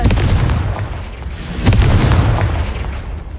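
Fire-blast spell explosion from the Hogwarts Legacy video game, heavy booming blasts with a low rumbling tail and a second loud burst midway, close and continuous throughout.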